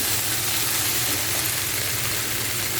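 Ingredients frying in a pan of oil for a spicy Chinese noodle and spaghetti dish, a steady broadband sizzle that stays even and fairly loud from start to finish, with no voices.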